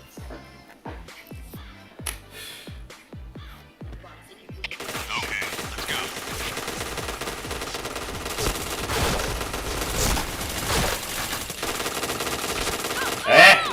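Gunfire in the online shooter game Point Blank: a run of sharp, evenly spaced single shots gives way to dense, continuous automatic fire and clattering battle effects, loud and sustained to the end.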